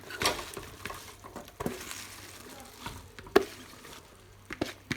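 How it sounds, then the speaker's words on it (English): Fresh spinach drops into a pan of nearly soft sweet potato, giving a quiet sizzle with scattered stirring clicks and scrapes, a few sharper knocks against the pan standing out. "So now I'm adding the spinach."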